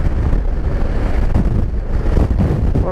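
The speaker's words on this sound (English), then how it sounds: "Oh, there's the wind." Heavy wind buffets the microphone while riding a Honda ST1100 motorcycle, a loud, continuous low roar with gusty surges throughout.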